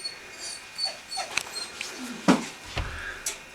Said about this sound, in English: Daft dog.